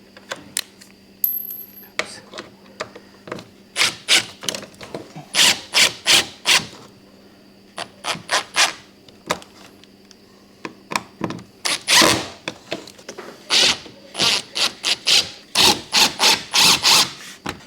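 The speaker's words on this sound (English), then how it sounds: "you have kind of self-tapping screws that you'll screw in there, top and bottom" Self-tapping screws driven into a Lifetime 8x7.5 plastic shed, a loud close run of repeated grinding bursts, some quick and clipped, others longer and strained as the screw fights the plastic, with short pauses between.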